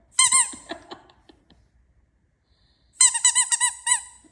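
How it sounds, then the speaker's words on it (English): Squeaky dog toy squeezed in two bursts of high, pitched squeaks, a short cluster at the start and a faster run of several squeaks after a pause, close and fairly loud. "You afraid Mama's gonna squeak it at you again?"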